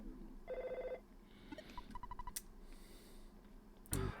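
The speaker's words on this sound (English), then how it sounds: "McGurk gets the enter your meme phone call" In the video game Earthbound, a phone call rings out as a short electronic trill, followed by a few lighter beeping blips and a sharp burst near the end, quiet and set against faint background noise.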